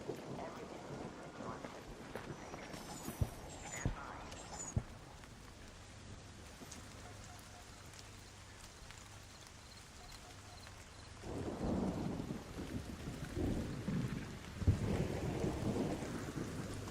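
Heavy rain hisses steadily through a thunderstorm in the video game ARC Raiders, with deep thunder rumbles rolling in near the start and swelling louder again toward the end.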